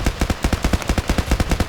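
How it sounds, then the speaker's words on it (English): Rapid, evenly spaced MP-443 pistol shots in the Battlefield Play4Free video game, about fifteen loud sharp reports fired in quick succession with no pause. "MP-443 pistol."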